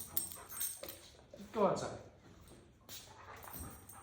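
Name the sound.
dog whimpering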